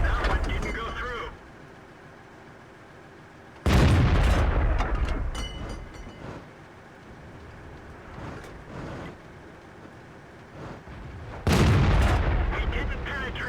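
Loud tank cannon shots in World of Tanks, a heavy boom at about 4 seconds and another near 11.5 seconds, each with a rumbling tail over the steady drone of battle.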